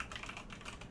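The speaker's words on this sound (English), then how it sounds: "You can simply type in what you want to show up" Quick, light keystrokes patter on a computer keyboard while amenities are typed into a property website form, a brief uneven run of clicks heard close and fairly quiet with no talk.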